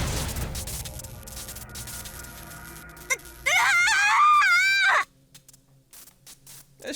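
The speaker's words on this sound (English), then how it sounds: "A shriek escaped Aoko's mouth." A girl's high, wavering shriek in the visual novel Witch On The Holy Night, loud and sustained for about a second and a half. Dark rumbling comes before it and quieter sound follows.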